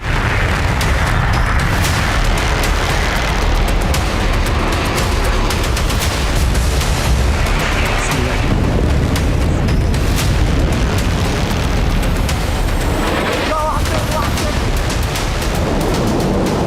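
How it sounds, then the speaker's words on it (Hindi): Bomb explosions from Israeli strikes, a continuous loud barrage of deep booms and blasts with crackling bursts throughout, heavy and dense with no pauses. "इजराइल ने गिराए बम, हूती का निकला दम।"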